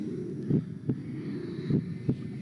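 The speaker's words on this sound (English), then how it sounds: "Is that my heartbeat?" Heartbeat in the video game Doki Doki Rain Clouds, a low thudding lub-dub repeated twice in a steady rhythm over a soft hum, with no voices.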